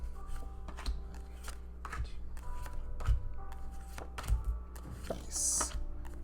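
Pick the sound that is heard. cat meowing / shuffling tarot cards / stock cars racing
shuffling tarot cards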